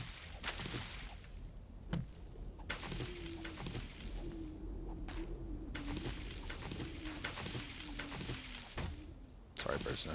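From a bird's nest in the game 7 Days to Die comes a low, steady, drawn-out cooing, faint under a constant background hum and someone talking.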